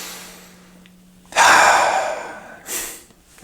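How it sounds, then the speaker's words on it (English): Deep breaths, one long loud breathy rush followed by a second shorter one, close and alone in a quiet room. "take a few deep breaths"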